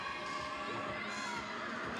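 A crowd at a college gymnastics meet, Ohio State at Michigan State, cheering and shouting loudly and continuously after a stuck landing, with the din filling the whole moment.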